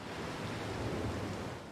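Steady rushing water pours continuously at a drinking fountain in Prince of Persia: Warrior Within, a dense broadband splash that runs unbroken and fairly loud throughout.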